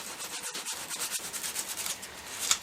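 Sandpaper of 220 grit rubbed by hand over a cottonwood bark wood spirit carving, a steady close scratchy rasp in quick back-and-forth strokes with no voices.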